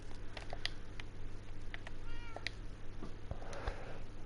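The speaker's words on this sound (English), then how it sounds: "yeah, even that cat's agreeing" A cat meows a few times nearby, its short calls rising over a steady background hum during Minecraft play.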